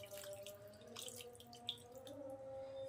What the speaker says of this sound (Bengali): এবার আমি একটু জল দিয়ে দেব